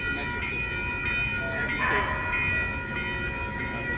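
Metro train at a station platform on the line toward Long Beach, a steady loud rumble of the carriages with a brief brighter squeal in the middle and talk faintly mixed into the din.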